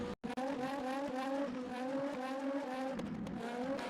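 Race car tyres locking up under braking, a sustained squeal over the engine noise after a brief dropout at the start, steady and moderately loud with a slight change near the end.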